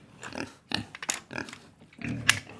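A pig grunts and oinks in a quick series of rough, snorting bursts, close and fairly quiet, with a sharper squeal near the end.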